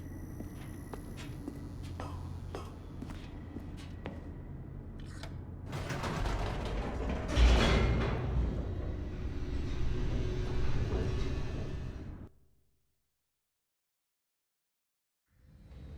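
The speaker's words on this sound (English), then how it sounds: "The elevator raced downward" Elevator descending in The Stanley Parable: a steady mechanical rumble with creaks and clanks that swells into a loud grinding rush midway, then cuts off abruptly into silence before a faint return at the end.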